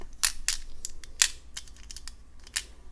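Art Deco glass beads clatter and tick as they are flipped over on a surface, several quick close clicks scattered irregularly, a few louder and crisp, in an otherwise quiet room.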